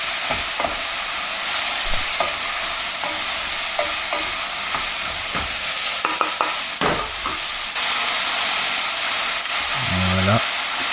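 Diced vegetables and courgette sweat in a pan with a steady, loud, close sizzle, accompanied by occasional stirring knocks and scrapes throughout.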